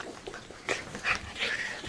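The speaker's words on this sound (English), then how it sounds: "Our dog is seriously trying to love my dad." Pet dog Fergie whimpering softly indoors, a few faint, high, breathy whines and yips spread across a short quiet moment.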